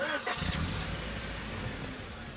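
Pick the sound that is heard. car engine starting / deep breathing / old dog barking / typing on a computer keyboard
car engine starting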